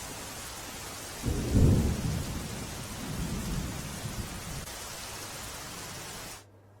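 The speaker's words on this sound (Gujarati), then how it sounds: "બપોર બાદ સમી સાંજે ધોધમાર વરસાદ વરસ્યો હતો" Heavy monsoon rain pours steadily over Surat while low thunder rumbles twice, the first roll louder and closer, before the sound cuts off.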